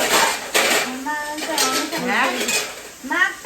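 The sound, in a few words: dishes and utensils being washed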